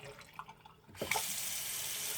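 A bathroom faucet opens partway through and runs at full pressure, a loud steady rush of water pouring into the sink after a few quiet seconds.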